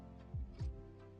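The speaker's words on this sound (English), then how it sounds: "Heart beating." Two deep, booming heartbeat thuds land close together as a suspense effect during a live giveaway draw, loud over a low steady hum, with no one talking.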